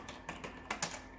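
Sparse keystrokes on a computer keyboard, a handful of quiet clicks at irregular intervals with a couple of louder taps near the end, heard alone against faint background hum.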